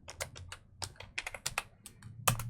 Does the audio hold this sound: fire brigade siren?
no